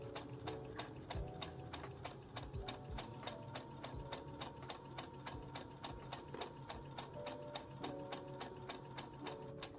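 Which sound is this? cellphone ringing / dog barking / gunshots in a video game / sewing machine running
sewing machine running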